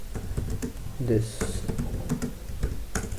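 Rapid keystrokes on a computer keyboard, a steady patter of close, crisp clicks running under a voice speaking throughout.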